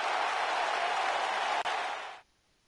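A virtual arena crowd in WWE 2K19 applauds after a wrestling match, a dense, even roar of clapping that cuts off abruptly near the end.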